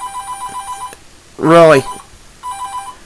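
A telephone rings in a room during a Pokemon game session, with repeated electronic trilling bursts before and after someone speaks loudly over a gap in the ringing.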